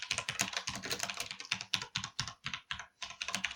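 Rapid, steady typing of random numbers on a computer keyboard, close and crisp, with dense clusters of key clicks and brief pauses, no voices.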